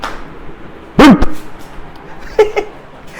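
A dog gives one sharp bark and, a little later, a shorter yip, both fairly close, over steady room noise.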